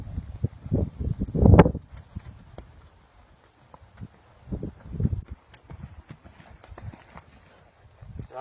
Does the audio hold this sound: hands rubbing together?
no